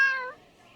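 A single short cat meow, clear and close, fading quickly into quiet.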